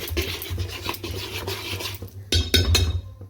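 A utensil scrapes and stirs through dhokla batter in a metal bowl after baking soda and citric acid go in, making quick scraping and clinking strokes in a close, moderately quiet run.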